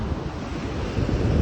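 Ocean waves washing onto a beach on the Outer Banks, a continuous broad rushing surf mixed with gusty wind buffeting the microphone, steady and fairly loud.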